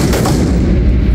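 Gunfire at a police tactical shooting training exercise, a dense loud burst of heavy booming reports with no talk.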